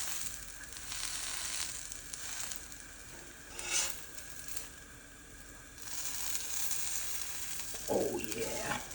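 Patties frying in a pan, a steady close sizzle crackling throughout, swelling and easing, with a spatula scrape near the end; no talking.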